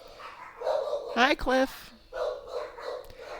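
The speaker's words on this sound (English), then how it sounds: "Yes, I have dogs. Now I can hear them." Dogs barking in a home, a couple of sharp barks in the middle of the clip beneath and between ongoing speech; the barks are brief and moderately loud, overlapping a person talking.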